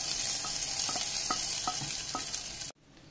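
Roasted spice mixture poured into a pumpkin curry, hissing in a loud steady sizzle with a few light stirring knocks, then cut off abruptly near the end.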